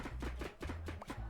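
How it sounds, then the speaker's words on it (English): An onion is chopped in a cooking video game: a quick, steady run of soft knife thuds, about eight evenly spaced cuts over a low background hum. "need to chop an onion"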